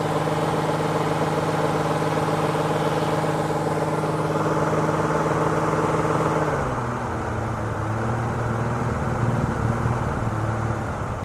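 A Honda Goldwing GL1500 motorcycle engine idling with a smooth, steady low hum that holds even throughout and shifts slightly in tone partway through. It is close and continuous, with no talking.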